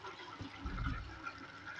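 Water poured from a glass into a pot of beef and fried potato curry, a soft continuous splashing and gurgling that swells briefly in the middle, fairly quiet and close.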